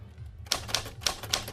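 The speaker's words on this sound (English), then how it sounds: "Gordon pounds on an old typewriter at the kitchen table." Old typewriter being pounded at a kitchen table: four sharp, heavy key strikes in an uneven rhythm over a low steady hum, close and fairly quiet overall.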